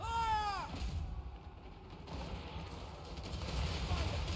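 Cannon and musket volleys fire in a Total War: Warhammer 3 battle, a dense rumbling barrage of booms that stays steady under a sustained roar, with a brief voice-like tone at the start.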